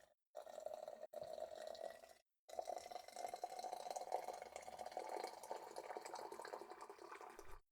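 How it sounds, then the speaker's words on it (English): Hot tea pours into a cup in a steady, close trickle that breaks off briefly twice before running on as a continuous bubbling stream, with no voices. "I was going to pour my tea in, so I'm going to record that"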